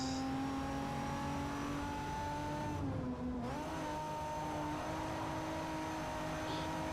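Race car engine in Forza Motorsport 4 revs hard during a drift, a loud sustained whine that dips briefly as the car slides, then climbs back up.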